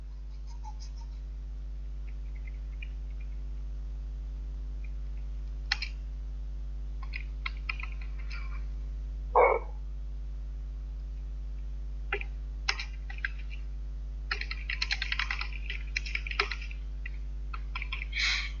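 Typing on a computer keyboard produces sparse, faint clicks and short clattering bursts, denser near the end, over a steady low electrical hum; no voices.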